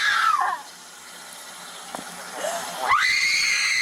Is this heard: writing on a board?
no